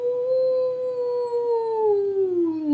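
A narrator's voice imitates a monster's horrible cry as one long, loud, sustained wail that slowly slides downward in pitch and stays steady until it fades.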